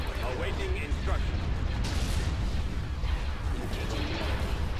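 Dense rumbling laser and cannon fire in a Star Wars: Empire at War space battle, with the Executor and other Imperial ships firing support, a continuous barrage of pops and booms under a talking voice.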